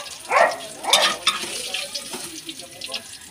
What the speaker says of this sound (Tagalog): luto ng ating pritong isda. Parang ayaw pang umalis sa kawali